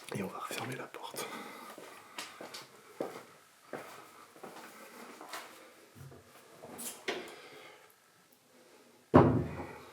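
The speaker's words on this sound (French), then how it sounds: "Et on va refermer la porte." A door inside an abandoned house swings shut with one sharp, loud thud near the end, after scattered creaks, shuffles and soft murmured speech.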